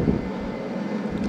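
Boeing 737 jet engines spooling at takeoff thrust, a steady loud broadband roar with a low rumble that holds evenly throughout, heard from inside the cockpit with no talking.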